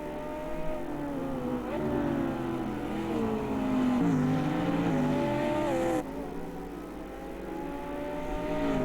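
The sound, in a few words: GT4 race cars in the racing game AMS2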